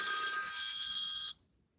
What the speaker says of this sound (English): somebody's gonna get a phone call, for real, for real. Let's answer it.